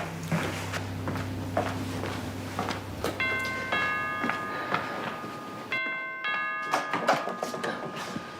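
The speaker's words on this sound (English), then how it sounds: "Looks like I'm saved by the bell. Why don't you go answer that?" Doorbell in a house, repeated electronic chime tones ringing out several times over a room background with soft footsteps and bumps, moderately loud and near.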